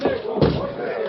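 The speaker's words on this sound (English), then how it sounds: "Break in the door." A door being broken in for a 1940s Lone Ranger radio drama, a single heavy slam and crunching thud, close and loud, with a second impact shortly after and voices around it.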